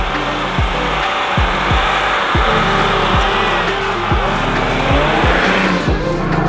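A van pushes through thick mountain snow drifts on BFG KO2 all-terrain tires aired down very low, its engine droning loudly and steadily while the tires churn and slip with repeated rising whines.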